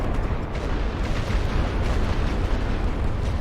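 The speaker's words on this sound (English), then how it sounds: "Now the heavy barrage is done." Heavy artillery barrage in the WWI strategy game The Great War: Western Front: a dense, continuous rumble of overlapping shell blasts and booms, loud and sustained with no pauses and no voices.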